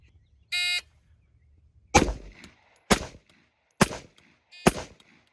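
Rifle fired four rounds at 10 yards from a low ready, four sharp, loud reports evenly spaced about a second apart, preceded by a short electronic shot-timer beep.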